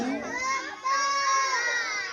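Crowd of children at Jomalig shouting and cheering together, a loud, sustained burst of high excited voices with one dip partway through before the noise surges back.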